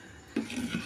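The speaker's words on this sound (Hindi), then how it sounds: "बर्तन हो गए इतने सारे सुबह सुबह धोने के लिए।" Dishes and pots being washed at a home sink on a busy morning, with a sharp clatter of metal utensils followed by a few lighter knocks and clinks, close and fairly quiet, no talk.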